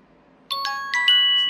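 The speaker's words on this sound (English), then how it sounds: "So there's the first text message." A phone chimes a Bitcoin SMS Alert text notification, a loud, close run of four or five bright rising tones, each ringing on and overlapping into a sustained shimmer.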